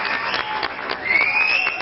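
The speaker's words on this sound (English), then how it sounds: "Give yourself a round of applause there." A brief patter of applause rises and swells slightly, with a faint whistle-like tone over the clapping.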